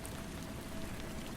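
Steady rain pattering on a shelter overhead, a soft, even wash of drops that stays faint and constant throughout with no voices.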